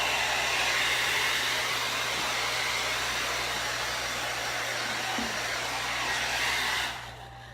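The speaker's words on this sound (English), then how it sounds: "I'm just going to blow dry it to get all the pieces away so it don't get back in the paint." A hair dryer blows steadily and loudly at close range, clearing loose paint pieces off a Christmas ornament, with a continuous broadband rush that holds evenly for about seven seconds before cutting off abruptly.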